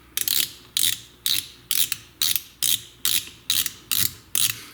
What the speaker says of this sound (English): this underside of the spool, where the little clicker noise maker there